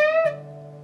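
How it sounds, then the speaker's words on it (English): An electric guitar note on the 15th fret of the B string, picked once and bent up a quarter step; a single clear sustained tone that rises slightly, then rings steadily and fades gently, played alone. "We're going to play it and we're going to bend it up a quarter step."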